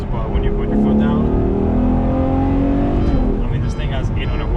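A Ferrari 812 GTS with an 800-horsepower engine accelerating hard, loud rising engine note climbing through the revs, close up and continuous, with a short dip near the end.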